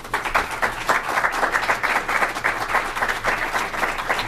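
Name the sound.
audience applause welcoming Senator Amy Klobuchar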